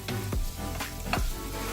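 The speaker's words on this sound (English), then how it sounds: "I want to keep it there so that the apples can kind of cook a little bit in this butter" Apples cooking in half a stick of melted butter in a pan give a steady sizzle and fry, with a few scraping stir sweeps, and no one speaks.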